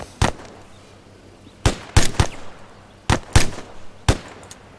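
Rapid rifle fire from a fire team in ArmA 3, heard as sharp, close shots in small clusters of two or three, separated by short pauses.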